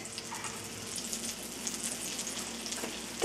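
Tortang talong, an eggplant omelette, frying in a pan with a steady, moderately quiet sizzle that runs unbroken and close by.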